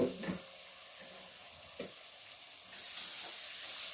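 Food sizzles steadily in a crowded pan for a home Sunday dinner, with a few light stirring clatters early and the frying hiss swelling louder toward the end.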